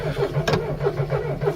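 A car engine that had been seized and then freed up, cranking with a rhythmic starter-motor chug and a steady low hum, close and fairly loud for a short stretch, with a brief sharp burst partway through.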